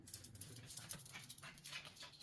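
A dog whimpers and pants nearby in a short, restless run of soft whines, fairly faint against background noise, with no talking.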